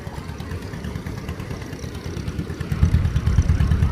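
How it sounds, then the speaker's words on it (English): A John Deere 30 series two-cylinder tractor of 26 horsepower idling close by with a steady, lumpy low chug that grows louder and rougher toward the end, no voices. "30 series was the last of the 2-cylinder John Deere."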